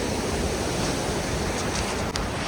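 A river on the Annapurna Base Camp trek in Nepal rushes steadily at a crossing point, a loud, continuous broadband roar of flowing water close by with no pauses.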